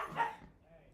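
A big dog and a little dog scuffle at a distance, giving a brief faint burst of barking and yelping that fades quickly into quiet indoor background.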